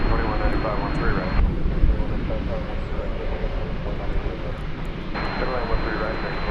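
An American Airlines jet landing on runway 20 right at DFW airport, a steady loud engine roar that swells slightly, heard from the ground with a shifting whine partway through and no voices.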